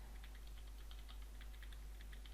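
Computer keyboard keys pressed in irregular quick taps while testing game controls, light clicks over a faint steady hum, no voices.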